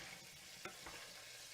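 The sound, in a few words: anchovies melting and sizzling in olive oil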